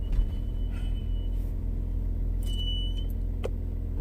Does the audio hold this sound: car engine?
yes